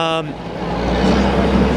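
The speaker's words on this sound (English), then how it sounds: "The garbage truck goes by when I talk to you" A New York garbage truck rumbling past on the street by Broadway, a loud low engine roar that swells and stays steady after a brief voice at the start.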